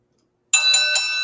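A bright metallic bell rings out suddenly after silence, a loud sustained clang with two or three quick repeated strikes ringing on, like an opening bell for a wrestling show.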